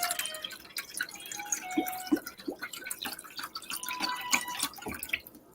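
Water being poured into a pot of mushroom stock for risotto, with bright trickling and dripping splashes close by, steady and fairly loud, with no voices.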